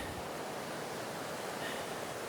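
Ocean waves washing ashore as the tide comes in, a steady broadband rush of surf heard close and continuous, with no distinct breaks or voices.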